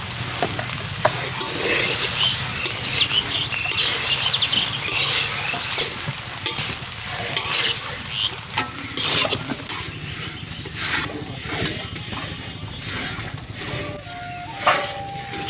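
Cooked rice made from fine-grained chinigura rice is stir-fried with winter vegetables in a pan, giving a steady sizzle and frying crackle with scraping stir strokes throughout, moderately loud, no talking.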